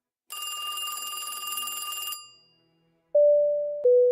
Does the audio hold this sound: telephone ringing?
yes